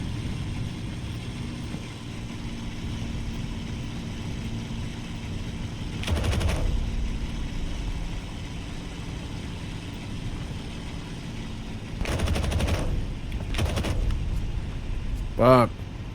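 Bursts of machine gun fire from a fighter plane in Aces of Thunder over a steady engine drone, three short volleys spread out, fairly close and loud.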